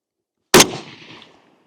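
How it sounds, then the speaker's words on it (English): A single sharp, loud crack from a Russian SKS rifle firing 123 grain Bellum ammunition, followed by a short decaying echo that fades within a second. "we're going to give the Russian SKS 3 rounds of the same Bellum ammunition, 123 grain"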